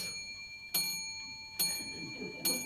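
A clock marks time with three sharp chimes spaced evenly, each ringing out and fading, in a quiet hall with faint background noise.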